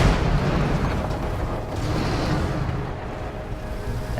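Anti-tank gun and tank cannon fire in a World War II strategy game, heavy booming and rumbling battle noise that stays dense and loud throughout, with no voices.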